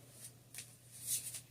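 A Bay Area Tarot card deck is shuffled in a few quick riffling bursts, soft, close and crisp, with no talking.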